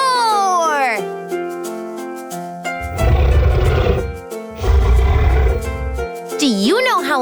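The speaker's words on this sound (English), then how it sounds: "The T-Rex says, roar!" A cartoon T-Rex roar, two loud, harsh bursts of rumbling roaring set between sung and spoken passages, with a child-like voice heard around them.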